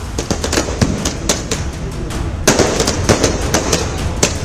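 Firecrackers crackle in dense, rapid bursts of sharp pops from an election-result celebration in Maharashtra in 2024, loud and continuous with no voices.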